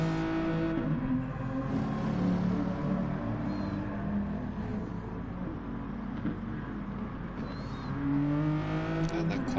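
A Gr.4 race car laps Bathurst in Gran Turismo Sport, its engine droning steadily and loud with rising and falling pitch through gear changes, while a voice talks faintly underneath.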